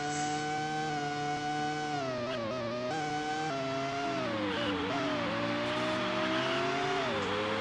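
Formula One race car engines from the F1 Racing Championship game scream continuously at high revs, pitch rising and dipping through gear changes and a chicane, loud and steady with no talk.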